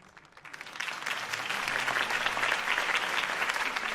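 Steady clapping from a video game crowd swells up and holds, dense and fairly close, without any talking over it.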